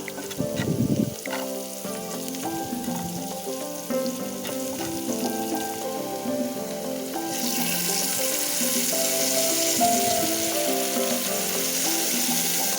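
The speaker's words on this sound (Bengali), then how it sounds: "সবগুলো দিয়ে মিক্স করে নেড়ে ছেড়ে আরও কিছুক্ষণ ভেজে নেব" Spices and vegetables sizzle in a pan under background music, the frying growing louder and brighter in the second half.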